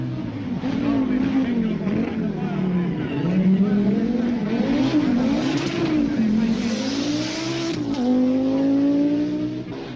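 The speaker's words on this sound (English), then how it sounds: "Stig is driving the only long wheelbase A2 model Quattro in the works team" A long-wheelbase Audi Quattro A2 works rally car drives a stage of the Rally of the 1000 Lakes, its engine rising and falling through the gears as a commentator talks over it.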